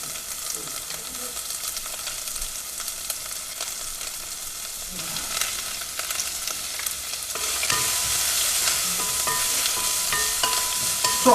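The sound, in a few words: chopped onion sautéing in a pan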